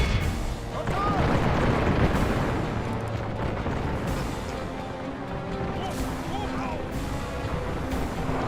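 A Medieval 2 battle with dense, continuous gunfire crackling over a rumbling battlefield din, while someone talks over it.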